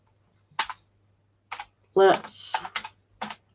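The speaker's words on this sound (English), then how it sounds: "as I'm typing things in" Keys clack on a computer keyboard in short bursts, several quick clusters of taps spaced across a few seconds, close and fairly loud, with a person speaking briefly between them.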